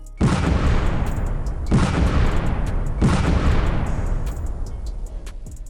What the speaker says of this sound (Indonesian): Bubuk mesiu yang telah disiapkan sudah ikut meledak.